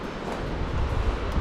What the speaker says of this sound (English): I just love like the constant waves here